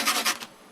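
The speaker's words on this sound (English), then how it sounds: "Just sand off the edges" Brief rough rasping of sandpaper rubbed over the rough edges of a DIY piece, two or three quick close strokes that stop abruptly.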